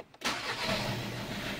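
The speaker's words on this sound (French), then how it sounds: "C'est quand je vais démarrer la voiture" A VW Golf 6 TDI diesel with a faulty injector cranks and fires up after a brief quiet moment, then settles into a steady, close, loud idle.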